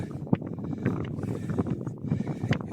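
Strong wind buffeting the microphone on a high spot on a farm in Savo, a steady, loud rumbling rush with gusty swells and no talk.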